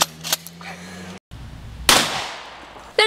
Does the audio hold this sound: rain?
no